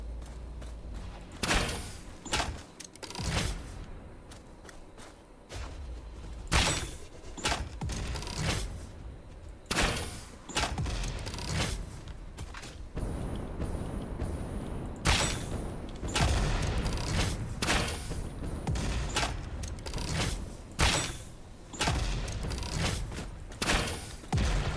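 Explosives blasting rocks in the video game Satisfactory: a rapid series of loud, sharp booming bursts and crackling impacts, coming in irregular clusters throughout with brief gaps between volleys.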